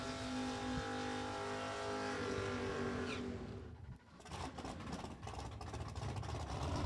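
A Porsche race car at a drag strip idles with a deep steady burble, then blasts into a loud raw roar that stays close and rough for several seconds.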